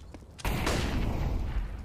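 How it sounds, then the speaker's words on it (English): Gunfire during a firefight in the tactical shooter CS:GO on the Dust2 map: after a faint opening, a sudden loud blast of shots runs into a dense, continuous crackle of gunfire that lasts to the end. "They're investing everything they've got into this firefight towards mid."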